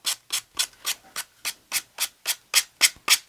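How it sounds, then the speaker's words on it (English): A sanding block is rubbed along a wooden edge to round off a corner, giving twelve steady, evenly spaced rasping strokes about a quarter second apart. They are close and clear, with no talk. "And I just run the sand block right off the edge."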